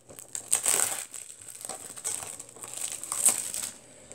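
Plastic wrapping crinkles and tears as newly bought DVDs are unwrapped, close and fairly loud in bursts of crackling, with a short pause mid-way before more crumpling, no talking.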